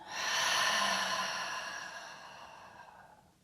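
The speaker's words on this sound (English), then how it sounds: "Big exhale out." A big, slow exhale during a guided restorative breathing practice, a single long breathy rush that swells early and then tapers away over about three seconds, close and fairly loud with no talking.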